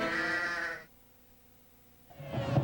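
A sheep bleats in a Coors Light beer commercial aired during an Iowa–Wisconsin college football broadcast. One loud, wavering bleat sounds up close, then a pause of near silence, then a second bleat begins.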